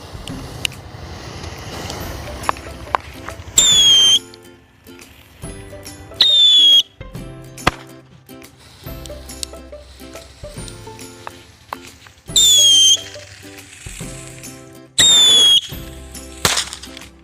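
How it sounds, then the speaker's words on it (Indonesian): Several whistling firecrackers set off on a toy car shriek in short bursts, each a sharp descending whistle with sizzling and hissing between them, scattered pops and crackles. "Mercon mobil dengan tikusan seperti apa?"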